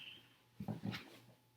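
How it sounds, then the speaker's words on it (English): A dog named Marty whimpering in his sleep while dreaming, two short soft whines close by in a quiet room. "Marty, wake up. My dog is dreaming."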